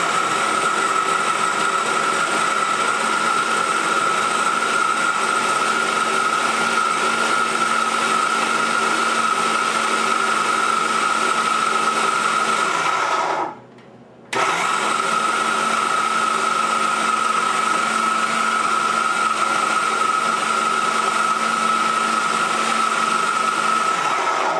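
A kitchen blender whirs steadily as it purees medjool dates into brownie batter, loud and continuous with a brief stop partway through before the motor starts up again.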